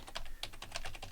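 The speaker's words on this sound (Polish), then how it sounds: "Wpisujemy IP" Rapid keystrokes on a computer keyboard while entering a NAS server's IP address, a quick irregular run of close, crisp clicks.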